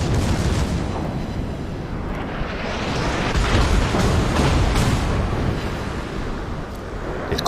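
Dense, continuous rumble of naval gunfire in the World of Warships video game, with secondary batteries firing at the battleship Tirpitz; loud, layered booms and crackling blasts sustained throughout with no pause.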